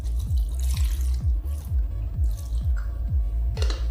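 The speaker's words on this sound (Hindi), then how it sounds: "और लगभग 1 कप पानी इसमें शामिल किया" About a cup of water is poured into a cooking pot, a continuous watery splashing and trickling at close range, with a regular low thumping pulse running underneath.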